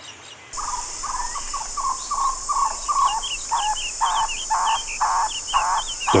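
Endemic birds in Cuban semi-deciduous dry forest call repeatedly: a run of clear, evenly spaced notes is followed by louder, higher, chirping phrases against a steady insect drone.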